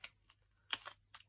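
Scissors snip through a folded paper book page in a few sharp, quiet, close cuts with short gaps between them, with no voices.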